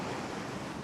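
Waves breaking on a beach sandbar make a steady, broad rushing roar, briefly and evenly sustained, with wind buffeting the microphone and no voices.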